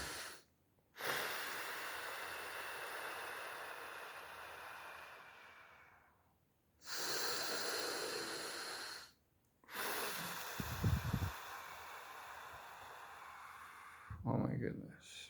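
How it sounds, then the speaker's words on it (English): Slow, deliberate breaths drawn in through the nose and released through the mouth during a chakra meditation, three long airy exhalations separated by short pauses, close and fairly soft, with a brief snort-like intake near the end. "We breathe."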